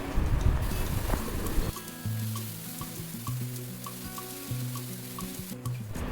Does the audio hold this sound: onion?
yes